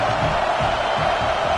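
Steady roar of a stadium crowd in an American football video game, a dense continuous wash of cheering noise at even loudness with no pauses.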